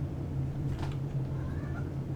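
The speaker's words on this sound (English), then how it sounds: "You guys can meet my cat for the first time." A pet cat in The Sims 4 meows over a steady low game-music bed, one soft mid-length call near the middle, with no talk.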